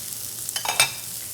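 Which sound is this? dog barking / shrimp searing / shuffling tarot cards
shrimp searing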